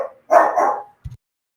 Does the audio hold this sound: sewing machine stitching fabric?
no